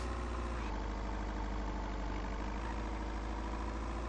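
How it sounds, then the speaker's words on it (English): A tractor engine idles steadily in the video game Vein, a continuous low rumble with a broad even hum that holds at constant loudness throughout. "Another tractor there for us."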